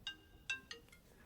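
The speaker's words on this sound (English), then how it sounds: "sorry, forgot to mute my phone" An iPhone ringtone chirps three times in quick succession, moderately loud and close, with a harmonic electronic tone.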